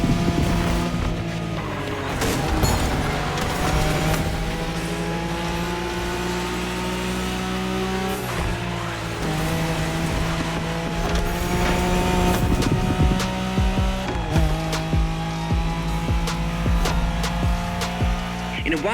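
A video-game Nissan Skyline in a Wangan highway race revs hard and continuously, loud engine roar climbing through gears with repeated shifts, tyre noise and racing effects layered on top.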